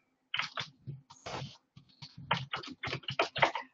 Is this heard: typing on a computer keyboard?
yes